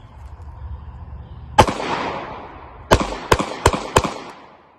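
Five sharp, loud Hi-Point pistol shots fired outdoors, one on its own and then four in quicker succession, each cracking close with a short echoing tail.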